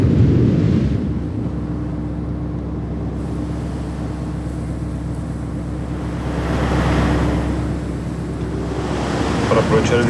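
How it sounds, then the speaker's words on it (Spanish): Storm waves pound a ship at sea in a continuous roar of surf and wind that swells and fades, with a voice faintly present underneath. "La tormenta se encuentra sobre el austral. Las olas lo golpean y lo mueven de un lado a otro."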